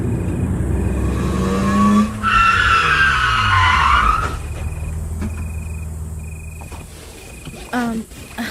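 A car skids hard to a sudden stop, with a loud, close tire squeal lasting about two seconds over a running engine. The engine then settles into a low idle.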